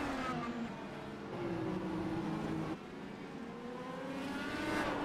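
IndyCar race cars on the Mid-Ohio road course in a racing video game, engines droning as several cars pass in succession, pitch sweeping with each pass, at a moderate distance and fairly quiet.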